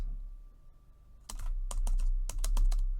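Keys clatter on a computer keyboard in short bursts of quick taps with brief pauses between, close and crisp over a quiet room hum.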